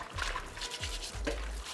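Eggs being washed by hand in warm water mixed with detergent and chlorine, a soft continuous trickle and slosh with a low rumble beneath, quiet and close, no voices.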